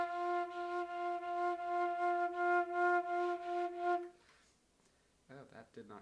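A metal flute plays a sustained F note with regular pulsing vibrato, giving about four seconds of rhythmic waves in loudness. Near silence follows, then a short burst of someone talking.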